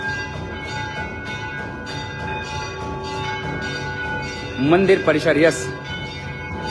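Temple bells clang steadily during aarti in a temple complex, a continuous metallic ringing in the background while someone speaks over it.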